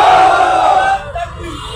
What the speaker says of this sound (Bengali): স্লোগানে স্লোগানে পুরা নিউ মার্কেট এরিয়া কাঁপিয়ে